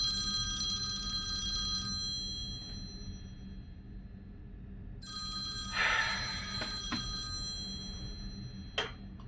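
A telephone rings indoors in two separate bursts of bright electronic trilling tones with a quiet pause between them, and a faint tick lands near the end, without any talk.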